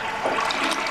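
A toilet flushes in a rushing, steady swirl of water, close and fairly loud, with no voices over it.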